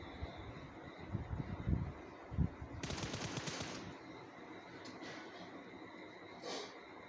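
Bursts of AKM rifle fire in a battle royale shooter match, a rapid volley of sharp shots mid-clip among scattered thumps and game ambience, with a short faint burst near the end.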